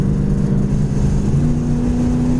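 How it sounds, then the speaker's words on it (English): A 1974 Plymouth Duster's V8 roars steadily under load, its deep engine note climbing slightly as the transmission kicks down into passing gear, loud and close. "kickdown works, right into passing gear, second to third"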